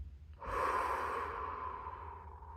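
One long, deep breath out during a guided relaxation, close and breathy, swelling quickly and then fading gradually over about two seconds, with no talking over it.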